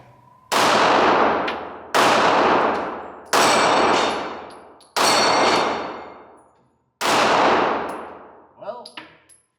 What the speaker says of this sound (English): Let's see if I can hit them flippy pedals with this gun.